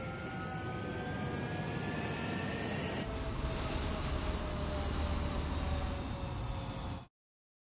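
Military jet engines roaring in the Ace Combat 7 video game, a loud continuous turbine roar with rising whine tones and a deeper rumble building partway through, running steadily before cutting off abruptly near the end.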